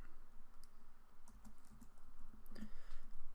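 Code being typed on a computer keyboard while building a 2D game in Unity, with a steady patter of quick keystrokes and a few sharper clacks, close and fairly quiet, with no voice.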